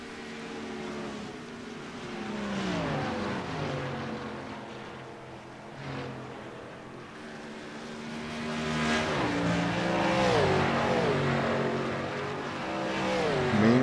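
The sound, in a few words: race cars on track during an Xfinity series race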